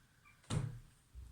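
A single soft thump of a door in a quiet house, short and fairly close, followed by a faint low bump and then near silence.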